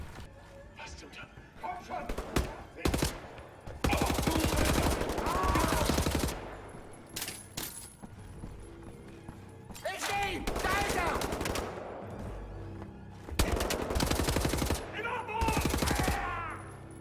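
Loud, booming blasts from a double-barrel shotgun in Wolfenstein: The New Order, fired in several separate bursts with gaps between them, close and punchy, with gunfire echoes and game effects around them.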